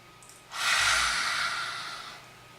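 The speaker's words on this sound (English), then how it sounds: "Last great big deep breath." Single deep breath drawn in sharply and let out slowly during a HIIT yoga session, close and breathy, with a quick intake followed by a long fading exhale.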